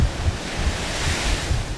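Oregon king tide waves pounding the rocky shore, a loud close roar of surf with heavy wind buffeting the microphone and low rumbling surges throughout.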